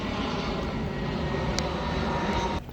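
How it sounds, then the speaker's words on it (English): Planes passing overhead near Dulles Airport beside a packed parking lot, a loud steady engine roar filling the whole stretch, dropping off slightly at the very end. "Lots of planes going overhead."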